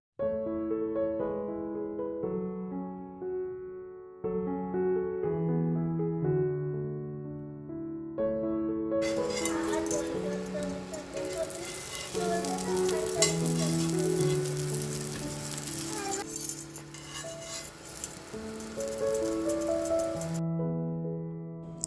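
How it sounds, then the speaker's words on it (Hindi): Potato paratha shaped like tacos crisp in ghee with a steady frying sizzle under melodic background music, the sizzle swelling in the middle stretch and fading near the end. "अब बस मैं घी में इन्हें अच्छे से क्रिस्पी कर लूँगी।"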